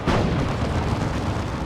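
A singularity ability detonates in Dawn of War 2, giving a loud, dense, sustained rumbling blast that fills the short moment, with no voices.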